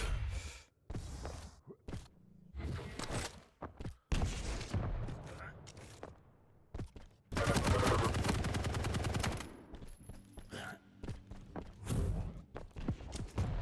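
Machine guns fire in an online first-person shooter duel, with bursts of rapid gunfire repeating in uneven clusters and one long sustained volley midway, trading back and forth between players.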